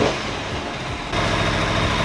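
An Aprilia Tuono motorcycle engine runs in a garage, a loud steady rumble that jumps up in volume partway through and then holds an even idle.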